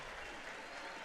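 Applause from both football teams and the crowd at a charity game between police and firefighters, a steady dense wash of clapping throughout.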